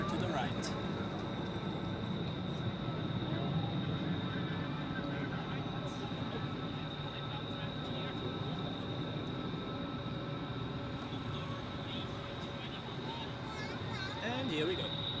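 A jet taxiing toward its parking stand at Zurich airport, steered in by a docking guidance system; a steady, fairly loud engine drone with a high whine runs throughout while a voice speaks over it.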